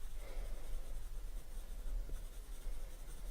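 Pencil drawing on smooth 200 GSM paper, a faint, soft continuous scratching with small irregular strokes, alone and close.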